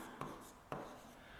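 Chalk or marker strokes on a classroom board during a Class 12 chemistry lesson, two sharp scratching taps followed by a soft rub, quiet and close.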